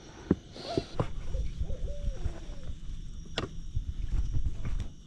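Barred owl hooting outdoors, a few faint wavering hoots heard at a distance over rustling, knocking and wind-like background noise, with scattered clicks and thumps nearby.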